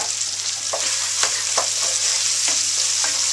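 Onion and garlic cook in a pan over really low heat for a curry, giving a steady soft sizzle broken by a few light stirring scrapes and taps, close and alone.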